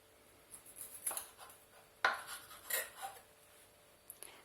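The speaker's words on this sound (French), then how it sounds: "il faut couper la queue et aussi les nageoires, les petites nageoires dorsales" A knife trims the tail and small dorsal fins from a mackerel, a few sharp cuts and light taps on a board, quiet and close with pauses between.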